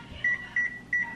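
A kitchen timer gives three short, evenly spaced electronic beeps, each a brief double tone, clear and close in a quiet kitchen.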